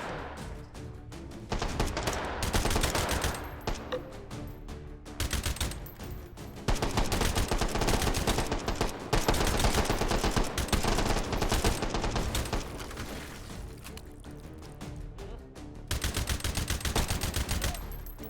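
Sustained automatic gunfire from a gun in the VR shooter H3VR, loud bursts of rapid fire broken by brief pauses across the stretch, with game effects in the background.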